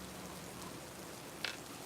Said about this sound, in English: Thank you for the rain. This rain is bringing in that breeze.